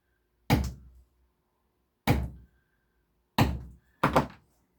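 Four separate thuds of a hole punch struck through leather while making a bag, each a sharp knock with a short decay, irregularly spaced and alone.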